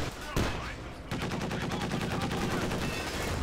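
Incendiary rounds in Company of Heroes 2: one sharp shot, then a sustained stream of rapid, evenly spaced automatic gunfire crackling steadily for several seconds at moderate loudness.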